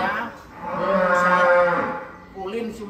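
A giant, rare cow moos loud and close in a long, drawn-out low call that swells and fades, then a shorter second moo follows.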